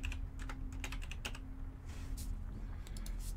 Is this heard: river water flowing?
no